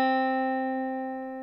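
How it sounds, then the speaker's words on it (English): One guitar note from the 1st fret of the B string, picked once up close and sustaining cleanly as it gradually fades for about a second and a half, alone without voices. "place it on the 1st fret of the 2nd string"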